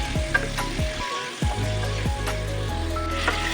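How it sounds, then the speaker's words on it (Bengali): Curry-cut chicken frying in hot oil for a light vegetable chicken curry, giving a steady, close sizzle broken by scraping stirs and spatula knocks against the pan, with no talking. "একটু চিকেনটাকে ফ্রাই করে নেওয়ার জন্য"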